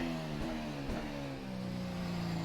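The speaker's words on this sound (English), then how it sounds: "Right, firing up the engine." A race car engine in the rFactor 2 racing sim, running at the Malaysia circuit, hums steadily with its pitch rising and falling in short revs, loud and close, with no talking.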